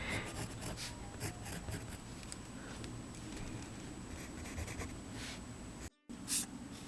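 Pencil scratching and rubbing across sketchbook paper while drawing, a soft steady rasp of strokes with small taps, quiet and close throughout with a brief dropout near the end.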